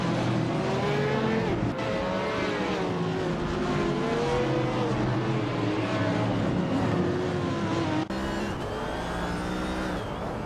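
Several race cars in a racing video game, engines droning and revving together at a steady, loud level throughout, with a brief cut near the end.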